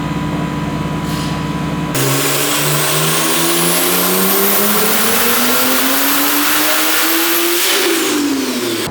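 Turbocharged BMW 135i with a big turbo revving hard on a dyno, a loud continuous engine pull whose pitch climbs steadily for several seconds before dropping off near the end, no voices.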